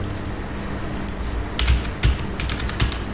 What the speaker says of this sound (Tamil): இப்போ இந்த இடத்துல நான் இப்போ சப்போஸ் எதனா டைப் பண்ணிட்ட